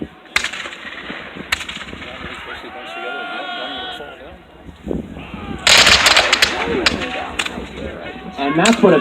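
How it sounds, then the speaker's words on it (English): A disciplined line of soldiers fires a musket volley at a siege reenactment at Old Fort Erie, sharp loud cracks in close succession with echoing reports, mixed with talk and crowd voices. "And that's what a good disciplined volley sounds like"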